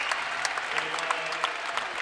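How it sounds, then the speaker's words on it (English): A women's college basketball crowd gives steady, continuous applause as Bowling Green players leave the floor late in a lopsided game, with dense clapping throughout. "the 5 going out for Bowling Green get a nice hand"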